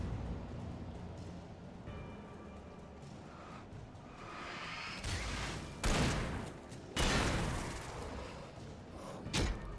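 Pump-action shotgun fire in the video game Alan Wake, several heavy booming blasts spaced a second or two apart, rising out of a quieter ambient background.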